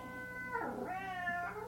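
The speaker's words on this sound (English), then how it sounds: "The cat came." A house cat meows once nearby, a drawn-out, wavering call rising and falling over about a second, heard over a steady low indoor hum.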